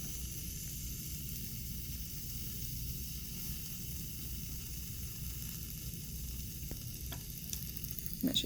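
Magnesium fizzing steadily as it reacts and gives off gas, a continuous soft hiss close by with a few faint clinks near the end.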